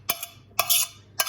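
A spoon scrapes and knocks against a pan while cheese is stirred into a macaroni cheese sauce, three short clattering strokes close up.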